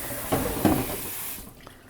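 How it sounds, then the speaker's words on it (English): Running tap water splashes over the outside of a plastic bag being washed with soapy water in a kitchen, a loud hissing gush for about a second that then cuts off to quiet. "we'll even put some soapy water on the outside of the bag"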